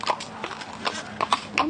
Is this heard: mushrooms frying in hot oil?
no